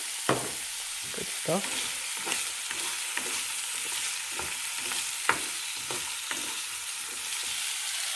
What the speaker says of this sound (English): First time cooking onions